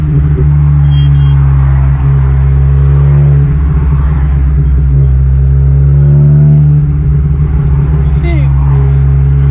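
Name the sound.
Volkswagen Golf R car with four exhaust pipes revving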